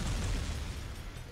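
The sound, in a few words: grenade explosions in video game Jak II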